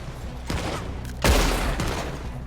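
Gunfire in a Red Dead Redemption 2 shootout: a dense burst of shots rolls through the first half, then a loud, close blast at about 1.3 seconds trails off into echoing reports.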